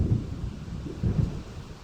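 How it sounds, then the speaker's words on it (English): Thunder from a coming storm in Alan Wake rolls low and deep in two swelling rumbles, fairly loud, with a soft rain-like hiss underneath. "It seems there's a storm coming."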